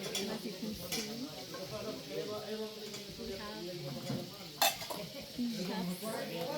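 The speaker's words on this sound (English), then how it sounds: "we have chefs cooking it up" Soup being stirred and cooked in a pot by chefs at a mountain base camp on a hike up Pico Duarte, with steady stirring, scraping and sizzling under continuous conversation nearby.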